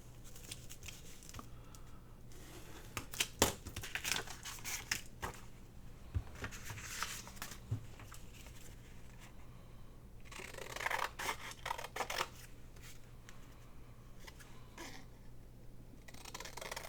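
Scissors snipping through junk mail paper, close and quiet, with repeated irregular cuts and soft paper rustles over a faint background hum.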